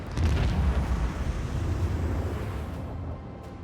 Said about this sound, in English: Another salvo. Fire right now.